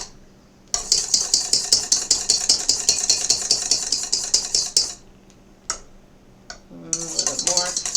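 Electric mixer whisking cream toward soft peaks runs loud and steady with a rattling metallic whir for about four seconds, stops, gives a brief burst, then starts again near the end.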